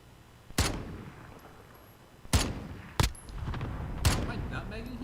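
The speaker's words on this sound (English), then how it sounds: "Allied cluster strike inbound." Explosions from a cluster strike in a video game match boom out one after another, four sharp, loud blasts spaced irregularly, each followed by a rumbling tail, with no talk over them.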